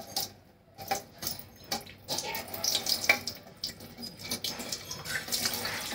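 Wheat extract (chik) strains through a cloth or sieve into a vessel: an irregular trickling and splashing of liquid with soft bumps and clicks throughout, fairly quiet.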